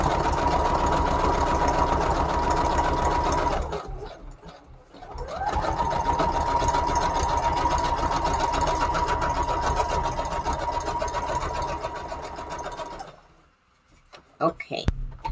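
A sewing machine stitches down a junk journal page with a fast, steady whirring hum, running about four seconds, pausing briefly, then continuing for roughly eight more seconds before stopping amid a few close clicks and handling noises.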